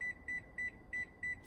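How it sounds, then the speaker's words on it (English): A kitchen timer being set gives five short electronic beeps, evenly spaced and fairly faint, with no voices. "turn on the timer for"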